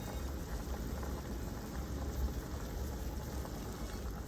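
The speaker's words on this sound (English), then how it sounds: "You just wanna boil it for a minute just to soften the skins on the almonds" Almonds boil in a pot of water to soften their skins, a continuous close bubbling hiss that stays even and unbroken throughout.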